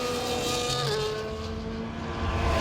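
Formula 1 car engine in the EA Sports F1 24 game, Fernando Alonso's car braking into the Monaco turn 6 hairpin: a loud, continuous engine drone whose pitch drops and then climbs again, with no talking.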